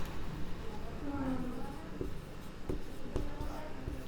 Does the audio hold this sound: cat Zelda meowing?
no